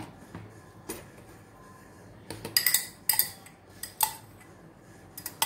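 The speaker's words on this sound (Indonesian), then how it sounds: "kemudian diaduk" Garlic mashed with olive oil being stirred in a container, heard as scattered utensil clinks and scrapes against the vessel, a few sharper taps standing out in otherwise quiet surroundings.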